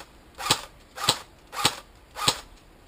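An airsoft AK-47 Spetsnaz fires four semi-auto shots at an even pace, each a sharp, close, slightly muffled crack.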